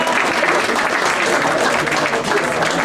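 A wine tasting audience claps steadily for the presenter who picked the wines. The applause is dense and loud and fills the room evenly, with no break and no voice on top.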